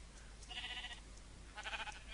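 Sheep bleating in Minecraft, a black sheep among them, two short faint bleats about a second apart over a low steady hum.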